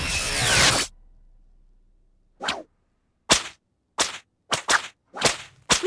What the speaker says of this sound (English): I'm very glad they took the whip cracking out entirely